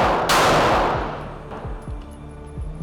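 Gunshots from a non-compensated Platypus pistol, a loud close report followed by a rapid string of sharp shots with ringing decay outdoors.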